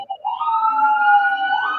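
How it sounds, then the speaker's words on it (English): A wailing emergency siren rises and holds a steady, loud tone in Jerusalem, sustained for nearly two seconds with no talk over it. "the sirens in the background"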